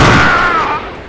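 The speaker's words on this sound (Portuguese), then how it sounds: "ela manda tiro pra cima dele" A single loud gunshot cracks sharply up close, then its booming tail decays over about a second.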